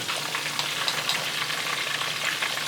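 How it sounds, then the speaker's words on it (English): A spiced mixture with cloves and vanilla is stirred as it melts in a pan, giving a steady, close frying sizzle with soft scraping textures and no voices. "I'm going to stir that up and I'm going to let that melt"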